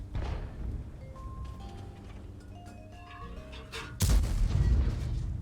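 A video game tank fires 100-plus millimeter shells, with muffled thumps and a sharp loud boom near the end.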